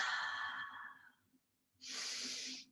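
Two deep breaths during a yoga session: a long, airy exhale fading out, a brief pause, then a second strong breath. Both are close and clear, with a faint low hum underneath.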